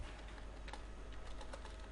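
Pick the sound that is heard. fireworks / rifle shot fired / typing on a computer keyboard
typing on a computer keyboard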